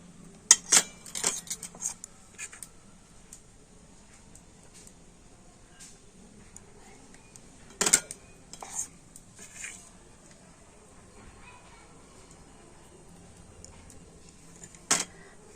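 Sharp, sparse clinks of bowls and a spoon as batter is spooned into each bowl, a few bright knocks scattered over quiet background with gaps between.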